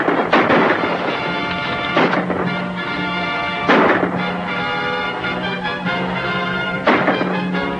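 Gunshots ring out in a 1940 classic western film, with about four loud, booming reports spaced a couple of seconds apart, each trailing into echoing rumble over a low background hum.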